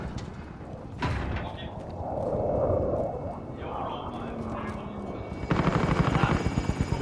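Helicopter hovering over a rooftop in a video game, a steady rotor drone throughout with mechanical clunks and a louder, choppier burst near the end, under overlapping talk.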